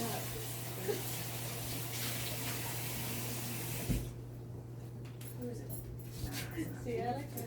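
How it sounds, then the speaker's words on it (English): Tap water runs into a bowl being rinsed in a home kitchen, a steady splashing hiss for about four seconds before it shuts off, followed by quieter handling noises, with a low steady hum beneath and a person talking. "Let me just rinse my bowl out."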